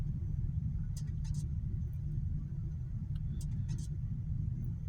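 Steady low road rumble from inside a moving truck, a continuous engine and tire drone on the road with a few faint higher clicks over it, no talk.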